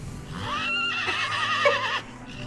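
A horse whinnies loudly and close, its neigh rising and wavering for about a second and a half, then trailing off.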